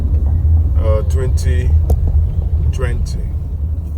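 A car rumbling along a badly damaged federal road in Aguata, Anambra, a heavy low engine and tyre drone running throughout under a voice speaking in short bursts.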